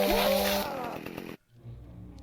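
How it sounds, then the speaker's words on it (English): Chainsaw revving in the Dark Moon video game, a loud buzzing whine up close that cuts off abruptly, with a voice talking over it. "Actually killed one of them with a gun. With a chainsaw."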